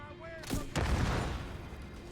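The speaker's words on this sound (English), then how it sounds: "Did that hit the grenade that you lobbed?" A lobbed grenade in The Division 2 bursts in two close, heavy booms about a quarter second apart, followed by a rumbling tail that decays over the next second amid game background noise.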